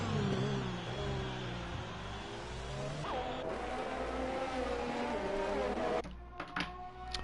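The Renault DP World Formula 3 car in a sim racing broadcast at Vietnam, its engine a loud, steady high-pitched whine that shifts pitch through gear changes, cutting off abruptly near the end.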